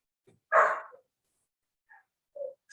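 A puppy barks once, fairly loud, then gives a few faint short yips and whimpers in otherwise quiet surroundings.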